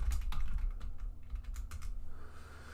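Fingers type quickly on a computer keyboard nearby in rapid, uneven bursts of clicks over a low background hum, briefly easing before the tapping resumes.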